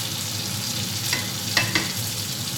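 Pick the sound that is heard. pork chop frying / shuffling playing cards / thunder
pork chop frying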